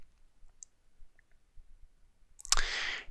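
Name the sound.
mouse click on save button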